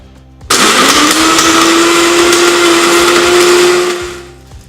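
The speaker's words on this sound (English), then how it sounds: "we're going to blend" A kitchen blender whirs on abruptly, holds a loud, steady motor drone with a rising pitch for about three and a half seconds, then winds down and stops.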